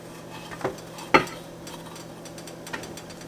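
Food being spooned from a bowl into a cooking pot during Thanksgiving cooking, a few scattered clinks and scrapes with one sharp knock of utensil against pot, no talking.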